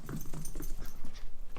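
A pet female dog close by, making soft whimpering, snuffling noises amid light shuffling and a faint jingle of tags during a brief burst of excited movement.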